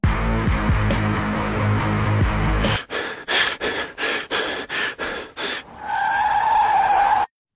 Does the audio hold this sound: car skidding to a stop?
yes